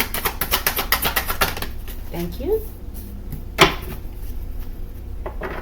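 Tarot cards are slammed down onto a table in a quick run of sharp, even slaps, followed after a pause by one louder slap, with a voice speaking briefly in between.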